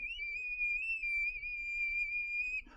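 A voice imitates the high-pitched whistle of wind rushing through a car on the highway, holding one steady, piercing tone for under three seconds before breaking off.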